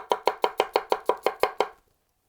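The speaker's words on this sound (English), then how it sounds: "Most tap chopping, that's what you're doing." Nine quick, evenly spaced knife taps as a Zwilling Pro chef's knife tap-chops on a board, crisp and close, stopping abruptly, no talking.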